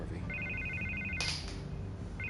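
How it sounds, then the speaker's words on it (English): A telephone rings with a repeated electronic trill in short bursts, sitting over a steady low background hum and a brief burst of noise. "I can't get the phone to stop ringing."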